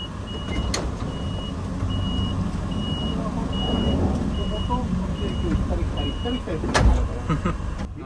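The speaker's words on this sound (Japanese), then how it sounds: "利用者が少ないのでワゴン車が使われています" A wagon-type minivan serving as a bus is ridden, with a steady engine and road rumble inside the cabin, a repeating electronic beep pulsing through much of it, and a few knocks and thumps.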